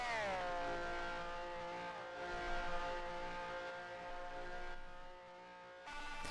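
Two Ferrari race cars in a sim racing game, a high engine whine sliding down in pitch under braking then holding steady, with a sudden shift near the end.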